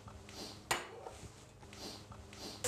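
Browned lamb stir-fry tipped from a pan into a colander in a kitchen, a sharp metallic clatter near the start and a softer knock at the end, over a low steady background hum with no talking.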